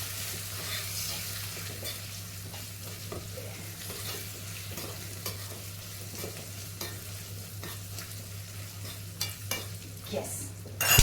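Spoon stirring a red chili tempering for Punjabi kadhi in a hot pan, a steady soft sizzle with scraping strokes throughout, a few sharper clinks near the end.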